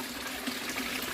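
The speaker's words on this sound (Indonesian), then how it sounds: "Jadi untuk filter ini saya buat 2 pancuran teman-teman ya" Water pours steadily from two spouts of a koi pond filter, falling from one level down to the next, a continuous close splashing rush with no other sound.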